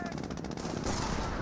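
Engineer gunfire in the World War II strategy game Company of Heroes, a continuous rattle of rapid automatic shots in a dense, loud battle mix with no breaks.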